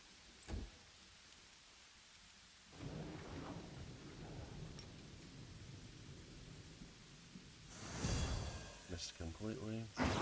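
Thunderclap from a lightning storm spell in a fantasy role-playing game battle against a red dragon, a loud crashing rumble with crackling bursts near the end, following a stretch of steady noisy rumble.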